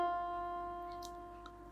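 A single sustained keyboard note F rings out close and clear, then slowly decays, alone with no talking.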